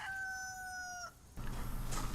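A chicken in the video game DayZ gives a drawn-out, steady crowing call for about a second, followed by a rougher noisy burst, moderately close.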